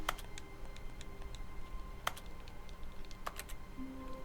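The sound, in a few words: keyboard keys pressed in video game The Stanley Parable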